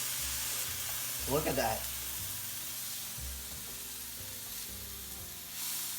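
Vegan calamari sizzles steadily in a hot frying pan, a soft continuous crackle with a brief stirring clatter and a short spoken remark over it.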